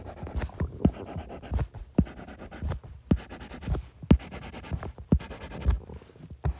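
Pen strokes scratching across paper as seven lines are drawn one after another, a steady rhythm of short, close, fairly loud scrapes with no talk.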